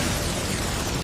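A huge explosion in an anime classroom scene erupts as one loud, dense, sustained roar lasting about a second before cutting off abruptly.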